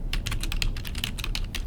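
Rapid typing on a computer keyboard, a quick uneven patter of close, crisp key clicks with no pauses and no talk.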